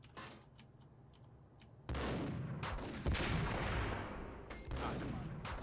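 Gunshots in the video game Max Payne, several heavy booming blasts with reverberant tails over a steady rumbling background, loud and close, coming in irregular bursts.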